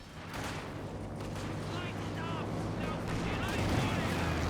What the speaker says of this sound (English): IL-2 bombing run commenced.